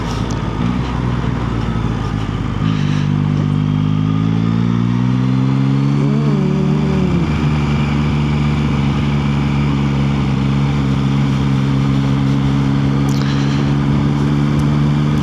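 A 2024 Yamaha MT-09 ridden through Woolston, Christchurch, its engine humming steadily before swelling as the rider accelerates, then holding a constant drone under heavy wind rush.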